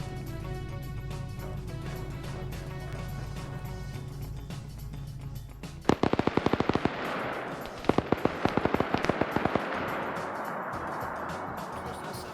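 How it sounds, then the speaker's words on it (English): A PKT machine gun fires in a military video game, rapid bursts of sharp automatic shots that break in suddenly after a steady mechanical rumble and recur in short volleys, loud and close. "Yeah, it's a PKT, but close enough."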